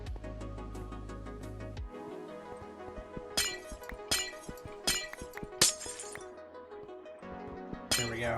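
Glass blocks are placed and broken in a video game, leaving a string of crisp clinks and small shattering bursts at irregular intervals over a steady ambient game backdrop.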